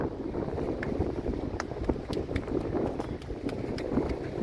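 Wind buffets the microphone on a seaside rock-fishing headland near Holyhead, a continuous low rumbling roar with irregular gusty surges and faint scattered clicks, no voices.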